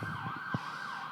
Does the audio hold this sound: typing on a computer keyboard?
no